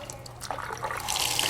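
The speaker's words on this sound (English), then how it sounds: "I'm going to go ahead and turn on the warm water here" Warm water runs from a sink tap, a steady hissing splash that builds louder toward the end, with faint clinks early on and no talk over it.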